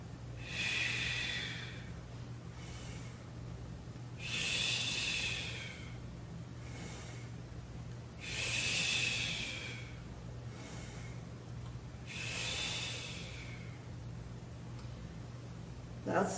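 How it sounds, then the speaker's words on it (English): Slow deep breaths during a tai chi session, four long airy inhale-exhale cycles evenly spaced about every four seconds, close and moderately loud over a steady low hum, with no talking. "Deep breathing, if you can"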